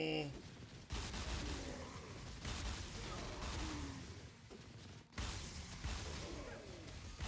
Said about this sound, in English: as long as I'm firing this direction, I'm getting those returns because I'm hitting walls and things